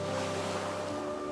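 Ocean waves crash against rocks around a small island in a steady, dense wash of surf, with wind noise rumbling low throughout; no talking.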